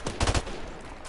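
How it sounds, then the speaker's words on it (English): Gunfire in the video game Call of Duty Modern Warfare Remastered: a burst of loud, sharp shots clustered near the start, with a low thumping punch and a brief ringing tail. No voices. "Two shots."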